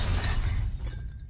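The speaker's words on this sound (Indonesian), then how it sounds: "Tiba-tiba saja benda-benda di atas meja bergerak sendirinya dan jatuh ke bawah" Glass shatters as objects tumble off a table in a morgue, a loud crash and scatter of shards that trails off within about a second, with no voices.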